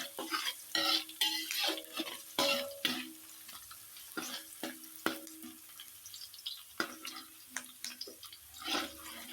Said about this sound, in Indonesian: Akan tumis hingga layu dan kekuningan pemirsa serta harum.